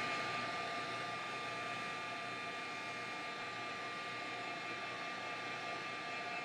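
A hair dryer blows a continuous loud, airy whoosh at close range over muslin artist trading cards, steady for the whole stretch with no talking.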